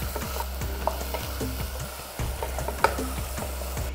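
Potatoes, peas and chili paste sizzle in a hot pan while a spoon stirs and scrapes through them in repeated strokes, loud and close, with no talking.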